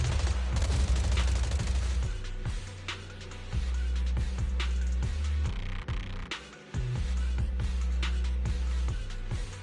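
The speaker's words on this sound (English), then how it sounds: "Gunfire? This pattern. Suppressive marching fire." Rapid suppressive marching gunfire in the Zenless Zone Zero video game, dense bursts of shots repeating in quick rhythm for nearly ten seconds with brief gaps, loud and unaccompanied by talk.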